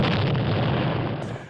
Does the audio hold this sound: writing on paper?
no